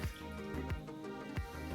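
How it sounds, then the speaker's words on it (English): Gold Peak green tea poured from a freshly opened bottle into a glass, a close, steady liquid gurgle with soft splashing and dripping throughout. "Kind of just pop that open, top off that, kind of pour it into your glass."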